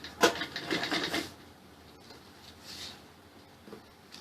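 A sewing machine stitches buckram for a salwar belt in a short whirring run that fades into quieter handling noises and a soft click.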